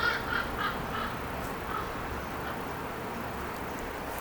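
A large bird calls a few times early on, short harsh caws spaced apart, moderately distant over a steady outdoor background hum, then quiets.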